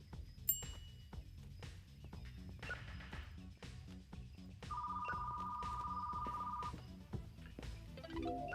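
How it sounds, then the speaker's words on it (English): A phone rings inside a video game, a steady electronic trill holding for about two seconds amid busy game sounds and music. "Phone is ringing."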